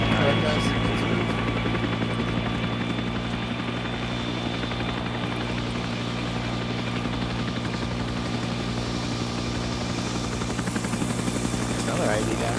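A helicopter in the video game Arma 3 gives off a constant close rotor thrum and engine whine that holds steady throughout, with player voices talking over it.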